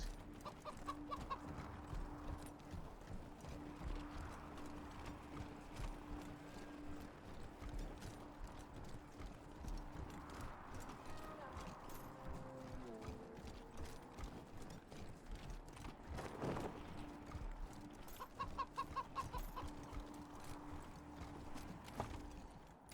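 A robot chicken companion in Wasteland 3 clucks and clicks with mechanical, clip-clop-like steps, a steady low-level stream of fowl and machine noises that carries on throughout.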